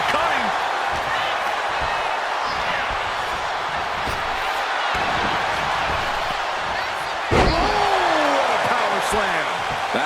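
A heavy body-slam impact lands in the WWE 2K25 wrestling video game, a single thud arriving late over a steady arena crowd roar, with a commentator's voice running throughout.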